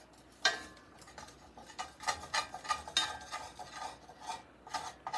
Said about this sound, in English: I wanted my gravy to be brown, so I'm browning my flour first